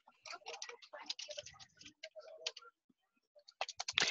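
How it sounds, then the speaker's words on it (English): Rapid clicking keystrokes typed on a computer keyboard while entering a promo name, in quick irregular bursts with a short pause before a final flurry. "type in the promo name"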